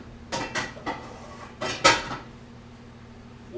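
Clanks and clatters of a 9-inch Copper Chef non-stick saute pan being handled in a home kitchen, several sharp metallic knocks in quick succession with one louder bang, close by and without talk.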